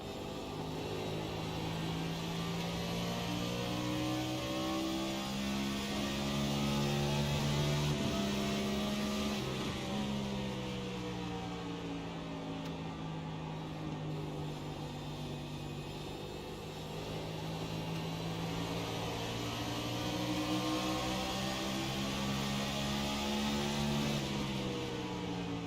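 Onboard cockpit view of the number 97 race car in the Integrity OCTANE Series, its engine droning loud and continuous, pitch climbing and falling through gear changes over about 25 seconds with no talk.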